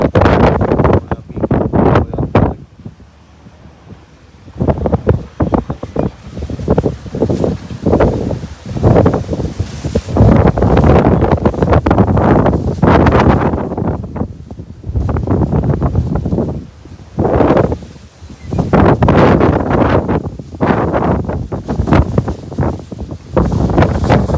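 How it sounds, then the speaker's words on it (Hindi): Strong gusts buffet a microphone outdoors near a gated lane by a village, coming in loud, roaring bursts that swell and fade across the whole stretch with short lulls between them. "हवा से हिल रहा हूँ, इतनी तेज हवा है।"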